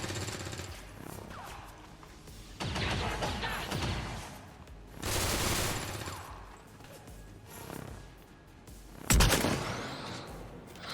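Gunfire fills a firefight in the strategy game XCOM 2 as civilians come under fire. Several rough, rattling bursts of shots come in waves, and a single sharp, loud crack lands near the end.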